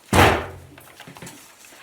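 A wooden door opening with a sharp heavy thunk at the start, followed by fainter creaks and knocks as it swings.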